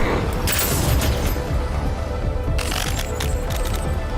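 Enemy gunfire in the shooter game Abyssus, dense continuous blasts and crackling impacts layered over a rumbling game soundtrack, loud and sustained with a brief burst of sharper noise partway through.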